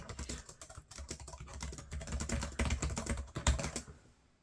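Fast, steady touch typing on a ThinkPad laptop keyboard, with dense rapid key clicks and occasional heavier thumps running continuously close up, ending abruptly.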